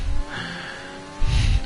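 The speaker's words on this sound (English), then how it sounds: "We're going to see Fred and Lasco really revving up" A Renault Formula 1 car in the F1 2020 racing game revs its engine with rising, buzzing bursts, one at the start and a stronger one near the end, steady engine drone between.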